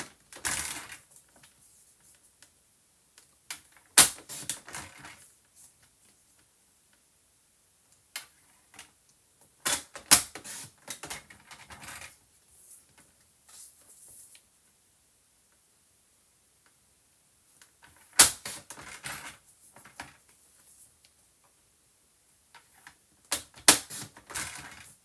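Paper being cut into small pieces for a scrapbook table-decoration advent calendar, heard as scattered bursts of crisp snipping and rustling with long quiet gaps between them.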